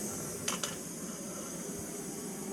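Jetboil Flash camping stove burner flame giving a steady faint hiss with a couple of brief clicks early on, quiet and continuous with no talk.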